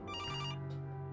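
An in-game telephone rings in the adventure game Kathy Rain, a steady electronic ringtone with bright harmonic tones, brief and fairly quiet with no one speaking.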